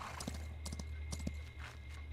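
A horse: a few light hoof clops in quick irregular steps over a low steady hum, fairly quiet and close.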